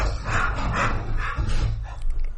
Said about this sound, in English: Yeah, there are some dog antics going on. Distant dog antics.